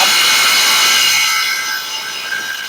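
A plain hammer drill runs continuously at close range, a loud, steady high-pitched motor whine that eases slightly as it spins down near the end.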